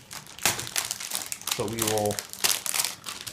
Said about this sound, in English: It is in this plastic bag. So you do just kind of rip it open.